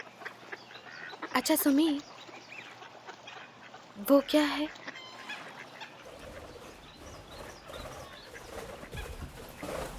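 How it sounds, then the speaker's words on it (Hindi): Geese or similar fowl honking in two short loud bursts amid outdoor ambience, with a voice speaking between and over the calls. "पंछी है और क्या है?"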